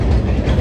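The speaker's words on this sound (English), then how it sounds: "We've never actually seen the train going over the spin bridge." A train rumbles across a swing bridge near a crabbing boat's fuel dock, a loud, steady low rolling roar with a faint clatter of wheels close by.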